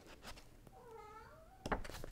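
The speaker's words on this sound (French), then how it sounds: "un chat qui s'appelle Coco," A cat named Coco gives a single drawn-out meow that rises and falls, heard close and fairly quiet amid soft room noise and a few light bumps.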